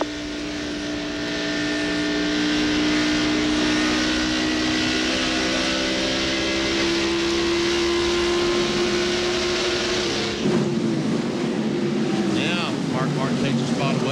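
Stock cars roar around the track at the 1995 Southern 500 NASCAR race, a sustained loud engine drone with a pitch shift as cars pass, under commentator talk.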